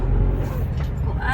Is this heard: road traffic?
yes